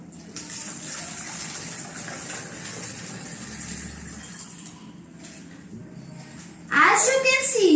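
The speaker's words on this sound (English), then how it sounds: "Fill the bottle with water." Water gurgles and gushes as it is poured into a plastic bottle fitted with a straw, a steady pouring wash that swells louder and brighter near the end.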